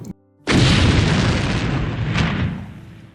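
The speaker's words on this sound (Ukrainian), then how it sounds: "Наші телекамери семінарії могли зафіксувати саме моменти прильотів" Missile strike explosion captured by seminary security cameras in Lviv during the war in Ukraine: a sudden loud blast that erupts after a brief quiet gap and rolls into a long, dense roar that slowly fades.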